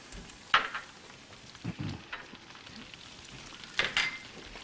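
Onions and garlic hitting hot fat in a pan, giving quiet scattered sizzles and spits in short bursts against a low, soft background.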